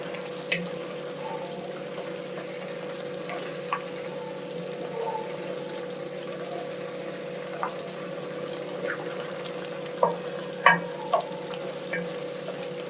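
Liver fries in a pan with a soft, even sizzle beneath a constant steady hum, broken by a few small pops and ticks, especially toward the end, with no one speaking.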